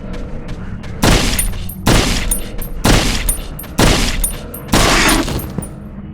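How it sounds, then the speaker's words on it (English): Five gunshots in Conscript, a World War I trench survival game: loud, close single shots spaced about a second apart, each with a short echoing tail and a mechanical click between them. "Five shots, eh?"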